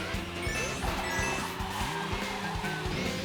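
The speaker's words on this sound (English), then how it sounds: "I'm not used to drifting in Mario Kart" Karts drift through a Mario Kart race with buzzing, shifting engine tones and squealing tires, layered over steady game sound for the whole stretch.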